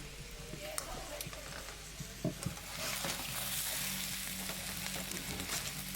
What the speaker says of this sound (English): pour in the egg mixture and just cook it like you would a normal omelette